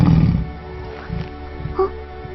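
Animated tiger in a Korean cartoon series giving a short low growl-roar, loud at first and then fading, followed by scattered rustles and a brief higher cry.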